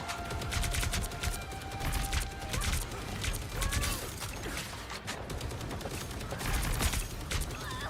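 Dense, continuous video game gunfire rattles throughout, with rapid bursts, clanking mechanisms and scattered impacts layered into a busy, loud mix.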